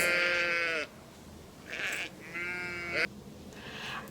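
Sheep bleat several times, close and clear, with long wavering cries separated by short pauses over a faint background hiss.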